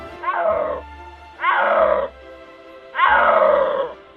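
A snow leopard gives three loud, close, drawn-out roaring calls, each a harsh grunting moan lasting about half a second with short pauses between.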